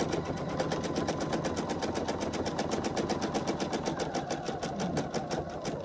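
A home sewing machine runs steadily at close range, stitching a seam around a curve with a fast, even mechanical chatter that holds for several seconds without pause.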